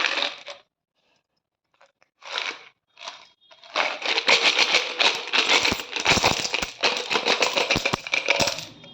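A childhood collection of coins, aluminium through copper, clinks in a few short bursts, then rattles and spills in a dense, continuous metallic jingle, close and loud.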